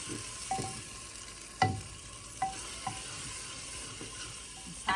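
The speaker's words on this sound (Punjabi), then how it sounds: "ਮਸਾਲੇ ਨੂੰ ਨਾ ਚੰਗੀ ਤਰ੍ਹਾਂ ਭੁੰਨਾਂਗੀ।" Spices including salt, turmeric, mixed masala, black pepper and dried coriander roast in a pan over a steady sizzle, with a spoon scraping and tapping the pan at irregular intervals close by.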